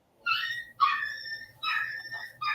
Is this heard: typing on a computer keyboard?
no